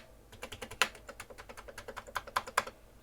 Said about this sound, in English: Let's check these keys work.